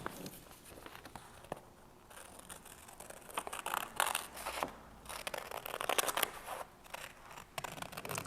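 Scissors snipping through paper while cutting out a costume mask shape, a series of quiet, irregular close-up snips and rustles of handled paper, with no talking.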